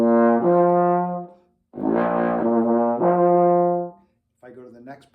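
A trombone in B flat sounds the next partial of the overtone series, a fifth above the fundamental on F, as a few loud, sustained brassy tones separated by short breaths, with no talk.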